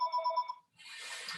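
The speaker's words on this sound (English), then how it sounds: "This phone is ringing." A telephone rings in a room during an indoor tai chi class, a rapid electronic trill in repeated bursts, followed by a broadband rustling hiss as the ringing stops.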